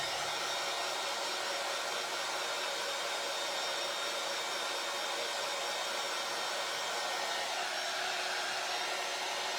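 A hair dryer blows steadily and loudly for the whole stretch, drying paint on a decorative IOD mould, a constant airy roar with no voices over it.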